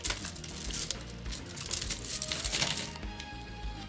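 A large pile of saved coins from a savings jar being handled and dropped: continuous jingling and clinking metal, dense and close, with scattered sharper clatters throughout, no talk.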